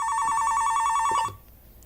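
A telephone bell rings loudly in a rapid, steady trill for just over a second, then cuts off abruptly, leaving near silence.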